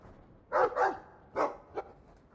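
Dog barks from the Dragon Age 2 video game, a few short yapping woofs in quick succession, two close together, then a third and a brief fourth, fairly clear with no talk over them.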